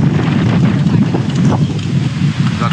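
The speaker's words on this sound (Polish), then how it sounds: "Zaczyna się wichura" Strong gale-force wind roaring steadily into the microphone with dense low rumble and gusty buffeting, continuous and loud, with a voice faintly under it.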